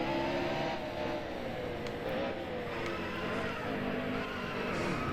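Race car engines roar continuously during a NASCAR Heat Evolution game at the Auto Club 400, with sustained loud droning and a few sharp bangs as cars wreck in turn 3.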